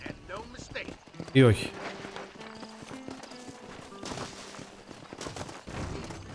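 Horse hooves clip-clop in the Western video game Red Dead Redemption, a steady trot that runs beneath someone talking over the game sounds.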